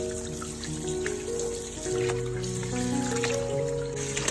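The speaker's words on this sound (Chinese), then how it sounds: "将所有的排骨全部冲洗一遍，" Tap water runs steadily over pork ribs being rinsed in a kitchen, a continuous close trickle and splash with faint clinks, no voices.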